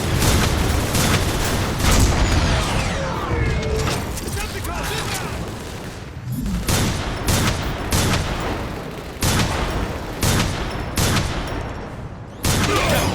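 Rapid bursts of sci-fi weapon fire and heavy booms from the Transformers: War for Cybertron PC game, loud and continuous with repeated volleys and brief gaps.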